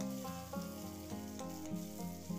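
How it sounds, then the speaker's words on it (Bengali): Pointed gourd pieces coated in salt and turmeric fry in mustard oil in a wok, a steady, close sizzle that continues throughout with soft background music. "এবার পটলগুলোকে নুন হলুদ মাখিয়ে রেখেছি, ওগুলোকে ভালো করে লাল লাল করে ভেজে নেব।"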